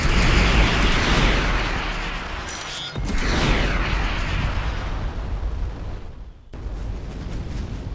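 Enemy ships are shot in the reactor in the space game Starcom: Unknown Space, producing loud, continuous booming blasts and rumbling bursts that dip briefly twice before resuming.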